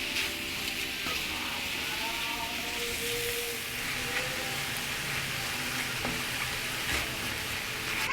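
Ground meat seasoned with taco seasoning, pepper and other spices frying in a pan on the stove, a steady broadband sizzle and crackle that holds at an even level throughout, with no talking.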